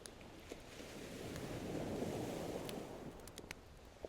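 Ocean waves rolling along a shore, a steady low wash swelling gently toward the middle and easing off, faint and distant with light wind, no talk.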